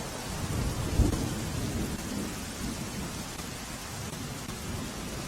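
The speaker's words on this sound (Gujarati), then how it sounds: "2 દિવસથી સાબરકાંઠા જિલ્લામાં વરસાદી માહોલ છવાયો છે।" A steady, moderately faint rain keeps falling during a spell of widespread rain in Sabarkantha district, Gujarat, with one low thump near the start that could be distant thunder. No voices are heard.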